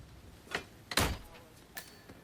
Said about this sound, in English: Door open.